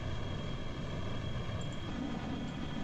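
An arrow-shaped plane flying in Kerbal Space Program gives a steady, even engine drone with a broad rushing roar, continuous and unchanging, fairly faint, with no talking.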